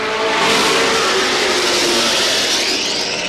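Race cars at Star Speedway roar off together at the green flag, a dense, loud wall of engine noise with rising revs that holds steady throughout.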